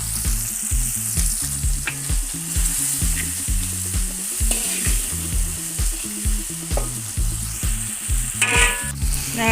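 Chili paste frying and being stirred in a pan for Padang-style sardine balado, a loud continuous sizzle with repeated scraping strokes of the spatula, close and without talk.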